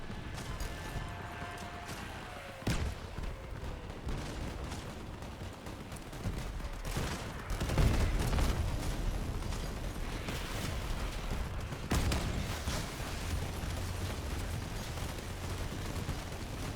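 Distant, fairly quiet gunfire and pops in a video game, with scattered shots and small bursts over a steady background rumble and no clear voices.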